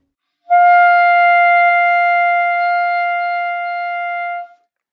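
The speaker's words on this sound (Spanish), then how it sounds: "Voy a tocar una nota, la nota sol, y lo que voy a hacer es totalmente relajar la embocadura." A clarinet sustains a single note G with a fully relaxed embouchure, a pure steady tone that starts cleanly, holds evenly for about four seconds and stops, with nothing else audible.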